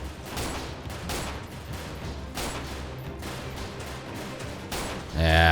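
Repeated pistol shots in the Freeman Guerrilla Warfare video game ring out in a steady, loud barrage over constant game noise, with a sharper, louder burst at the end.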